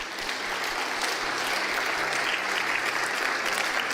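A church congregation applauds and cheers through a worship service, a dense, steady roar of clapping from many hands that holds at full level for the whole stretch, with no talk over it.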